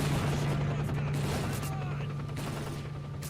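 Rapid gunfire from a weapon in S.T.A.L.K.E.R.: Call of Pripyat, set in Pripyat against zombies, sounding as a steady burst of shots over a constant low hum.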